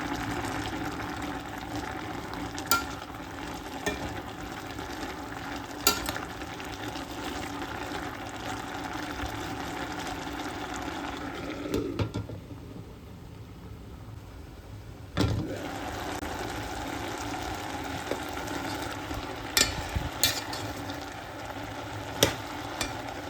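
A drumstick, potato and brinjal chilli curry in the Jaffna style simmers in a covered pan. It makes a steady bubbling, sizzling hiss with occasional lid knocks and a brief lull midway, and no one speaks.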